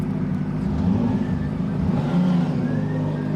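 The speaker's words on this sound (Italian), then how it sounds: "Secondo giro, Honda CBR 600 RR sul bagnato." Honda CBR600RR 2024 sport bike engine on a wet track, a steady loud drone with harmonic bands that stay fairly level throughout, close and continuous with no talk.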